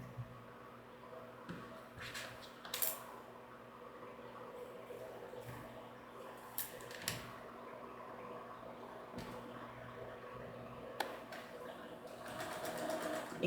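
A home sewing machine stitches along the side of a fabric box, a quiet steady mechanical whir running for over ten seconds with a few sharp clicks and thumps scattered through it.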